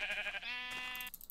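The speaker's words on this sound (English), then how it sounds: "Here's some of our sheep friends." A single sheep in Minecraft gives one clear, wavering bleat lasting about a second, close and distinct, followed by faint clicking.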